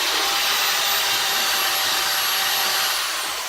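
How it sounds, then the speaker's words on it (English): An electric mixer whirs steadily at full speed while blending ceramic glaze, a loud continuous hiss-like drone that slightly fades near the end. "Now I use this mixer for the first mixing"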